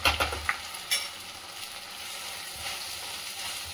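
Cumin seeds dropped into a hot frying pan with oil while making sabudana khichdi, giving a few quiet clinks and stirring scrapes early on, then a soft steady sizzle.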